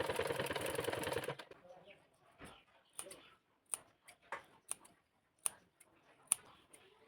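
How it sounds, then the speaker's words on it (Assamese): Domestic sewing machine stitching blouse cloth for piping, a loud steady whir for the first second or so, then stopping, followed by scattered sharp clicks and snips of handling fabric. "এই কাপোৰখন দি এতিয়া প্ৰথমে মই চিলাই লৈছোঁ"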